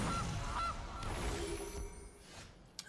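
A goose honk sounds from the Gilded Goose card in the Magic Arena video game, played in a Brawl match: a few short nasal calls over a steady game background, moderately loud and fairly close.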